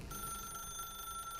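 Telephone ringing in the video game The Stanley Parable, a steady electronic ring that persists across the whole short moment at moderate loudness with no speech.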